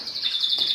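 Pet cage birds chirp in a quick, high, fluttering trill at close range, one short continuous call with no talk.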